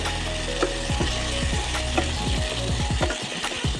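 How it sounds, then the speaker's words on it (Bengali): Potato and onion frying in a pan with turmeric and poppy-seed paste, stirred with a utensil: steady close sizzle under repeated scraping strokes and a few clinks, with no voices. "এরপর একটু নাড়াচাড়া করব।"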